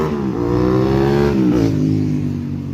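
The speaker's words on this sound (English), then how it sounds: "2 people had to rev their motors and the throttles going down the road in opposite directions" Two vehicles rev their engines and open their throttles while passing each other on a road in opposite directions, a loud continuous revving drone with rising and falling pitch, close by and with no talk.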